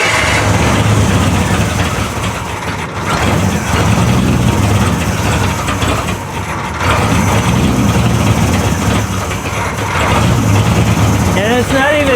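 A rough-running engine on a cheap old custom car fitted with a Verijet carburetor keeps up a loud, steady, uneven rumble at close range for the whole stretch, with voices talking over it.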